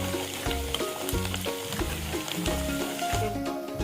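Chicken pickle with coriander fries in a pan with a continuous loud sizzle. A spoon stirs against the pan in rhythmic scraping strokes throughout.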